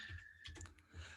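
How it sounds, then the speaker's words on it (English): Typing on a computer keyboard, a few quiet, irregular key clicks in a short burst, close but faint against a low background hum. "I'm having a hard time typing it out"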